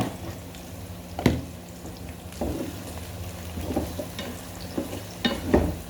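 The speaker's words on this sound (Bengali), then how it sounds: "পেঁয়াজগুলো হাত ভেজে নিলাম।" Thick-cut onions frying in a pan, a steady low sizzle broken by occasional scraping stirs and clanks of a utensil, close and moderately quiet, with no talking.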